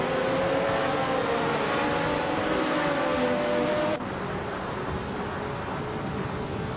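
Engine drone of a 1993 Peugeot 405 racing in a video game, a steady loud hum that shifts abruptly to a slightly lower, quieter tone partway through, with no voices.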